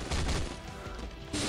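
Explosion and gunfire from the Marvel Future Fight mobile game, a dense burst of blasts and rattling shots that dips briefly then surges again near the end, loud and continuous.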